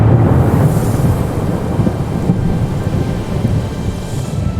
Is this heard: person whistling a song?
no